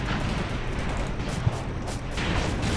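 Heavy shell impacts strike an enemy tank in the Graviteam Tactics: Mius Front Soviet campaign, a dense roar of artillery-like booms and rumbling gunfire with one sharp hit standing out midway, no talking.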